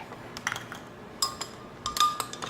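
A little spoon clinking against a dish in a home kitchen while making cauliflower pizza crust: a few light, bright metallic taps, scattered and close, with soft handling noise between them.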